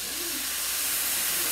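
Water hisses and steams in a hot pan with cabbage, a steady broadband sizzle and hiss that holds at an even, fairly loud level throughout with no talking.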